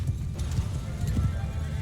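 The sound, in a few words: horses galloping in Mount & Blade II Bannerlord video game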